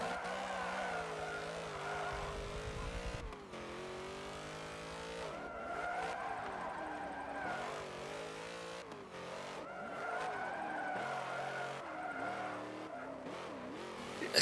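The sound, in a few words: Hummer drifting with tire squeal in Forza Motorsport 7 video game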